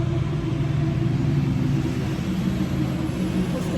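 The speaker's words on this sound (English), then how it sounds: "There's traffic." Steady low road traffic rumble, cars passing continuously at moderate distance with a constant engine drone and no distinct individual pass-bys.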